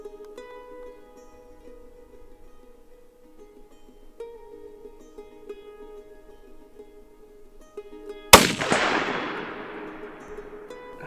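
A single rifle shot fired from a hasty sling wrap at an IPSC target on a 100-yard range, one sharp loud crack near the end followed by a decaying echo, after a long quiet stretch of low hum.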